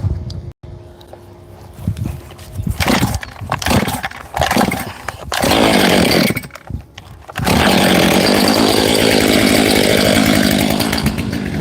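A chainsaw taking low branches off a tree, the engine revving in bursts with pauses between cuts, then running in a long, loud, sustained cut to the end.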